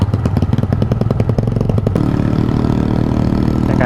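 Old Yamaha Vixion motorcycle engine idling, a loud close pulsing putter that shifts partway through into a steadier, smoother drone, no talking.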